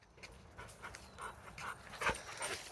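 Dodger the dog panting close by during an outdoor walk, quick breathy huffs in an uneven rhythm with a small whimpering sound near the end, no speech.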